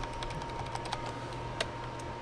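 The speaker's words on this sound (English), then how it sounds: "I'm holding the space bar and clicking and dragging my mouse" Mouse clicks and keyboard taps on a computer while the space bar is held and the mouse is dragged, a steady run of light, close clicks and ticks over a faint hum, with a couple of sharper clicks standing out.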